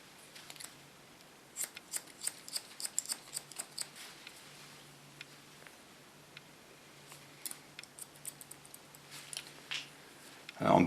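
Scissors snipping a woman's hair during a short haircut, a quick irregular run of crisp clicks that comes in clusters, close to the microphone and quiet, followed by a louder bump at the end.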